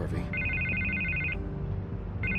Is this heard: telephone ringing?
yes